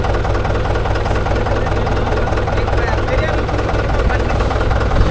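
A Mahindra 575 DI tractor engine idles loud and close with a steady low rumble and knock, unbroken for the whole stretch, with people talking over it in a rural setting.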